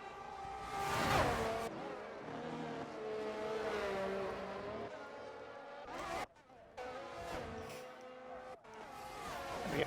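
Race cars in an F1 video game at Bahrain speed past in continuous loud engine whine with rising and falling pitch, broken by a brief dropout near the middle, while a commentator talks over the action.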